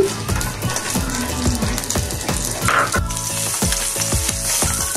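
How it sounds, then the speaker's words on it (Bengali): Two lightly salted fish fry in soybean oil in a pan, giving a loud, close, crackling sizzle with bursts of spattering throughout and no talking. "দিয়ে দেব সয়াবিন তেল। মাছ দুটো একটু ভেজে নিব।"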